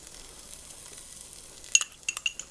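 Chilies drop into a hot pan among fresh tomatoes, giving a few sharp, close crackles and sizzles after a low, steady frying hiss.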